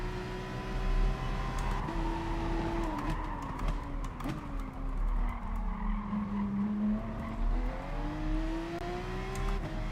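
A Lamborghini in GT Sport slides out of shape on a race track, its tires squealing in a long wavering whine over the steady engine drone, moderately loud with no talk.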